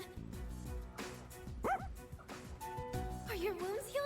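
Koromaru, the dog in Persona 3 Reload, gives several short barks and yips with a whimpering whine, sounding close over game music while a character speaks.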